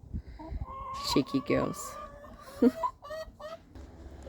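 Chickens in a backyard chicken pen clucking and giving short rising calls near the listener, several overlapping hens, with a person speaking briefly over them.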